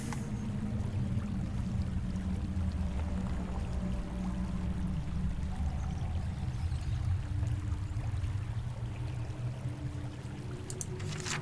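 River water flows steadily at low volume, a continuous soft rush and trickle with no talking, set in a fantasy game world.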